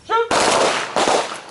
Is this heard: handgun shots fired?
yes